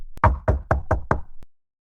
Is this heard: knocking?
yes